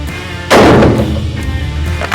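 A single sharp report from a Holland & Holland .308 rifle at a shooting ground cracks out loudly about half a second in, then decays into a ringing rumble that fades over the following second and a half.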